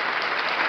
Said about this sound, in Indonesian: Berikan tepuk tangan sorak-sorak untuk Tuhan